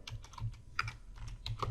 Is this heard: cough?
no